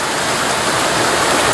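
Loud, continuous rushing of a Pennsylvania mountain stream holding native brook trout, a dense close-up roar of water with no talk over it.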